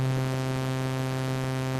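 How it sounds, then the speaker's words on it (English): A synthesizer holding one steady C note while its waveform morphs from a smooth sine toward a buzzy sawtooth, a sustained, moderately loud tone rich in evenly stacked harmonics, playing alone without speech. "I will now morph this waveform from being a sine wave to being a sawtooth waveform"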